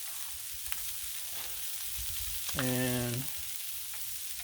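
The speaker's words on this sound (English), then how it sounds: "this is what I put on my corn on the cob when I cook it on the griddle" Corn on the cob sizzles steadily on a Blackstone griddle, a soft broadband hiss throughout, briefly joined near the end by a short tonal squeak or scrape.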